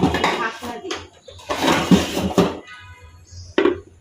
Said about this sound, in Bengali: ঢাকনা দিই